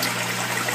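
Water pouring steadily into an aquarium tank, a continuous broadband rush with no breaks, close and fairly loud throughout.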